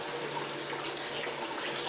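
Low, gentle water flow running steadily over a spiral gold wheel used for recovering flake gold, a soft continuous trickle and wash with no voices.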